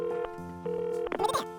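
A glittery toy phone is being dialed, giving a series of steady electronic beep tones with short gaps between them. A brief burst of rustling handling noise follows at the end.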